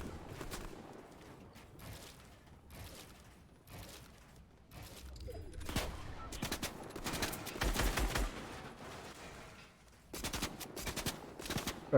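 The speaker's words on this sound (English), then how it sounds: "Bro, you really keep shooting at me?" Rapid automatic gunfire in the Fortnite battle royale video game, with repeated bursts and single shots, some near and loud, others farther off, broken by short lulls.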